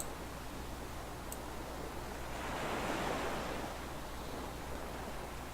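Calm simulated ocean waves in an Unreal Engine 4 ocean scene, a steady soft wash of surf with one gentle swell rising midway, no voices.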